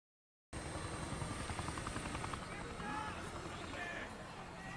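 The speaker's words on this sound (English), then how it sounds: "Oh, those are drones, I take it." Drones fly overhead in a Gundam 00 anime scene, a steady, loud, rushing whir with rotor-like flutter that holds for several seconds after a brief silence. Voices sit faintly under it.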